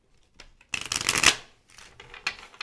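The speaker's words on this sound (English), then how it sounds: "we're going to shuffle these cards here, which these cards are gigantic." Large tarot cards shuffled up close: a loud riffling burst of flapping card edges lasting about a second, then a softer second shuffle, with no voices.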